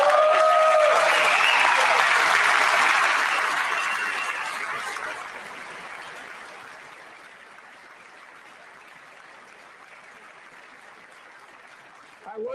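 Loud audience applause fills a chamber during a State of the Union address, a broad wash of clapping that swells at the start then gradually thins and fades over about twelve seconds.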